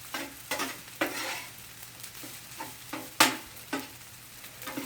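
Chicken fried rice tossed and stir-fried in a hot pan with a little oil, sizzling steadily with rhythmic scraping strokes and sharp hissing bursts roughly every half second, close and with no talk.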